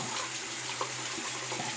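Water runs steadily from a tap in a shower or bathroom as it warms up, a constant soft hiss and splash with a low hum underneath, heard alone.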